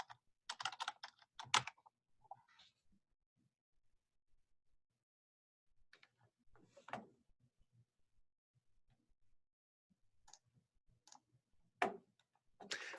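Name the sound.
typing information on a computer keyboard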